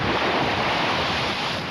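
Strong wind blows hard during a flood in Syracuse, New York, a loud, steady rush of noise that buffets the microphone with no break and no voices.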